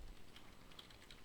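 Quiet typing on a computer keyboard, a few light, scattered key clicks spaced irregularly over a soft background hiss.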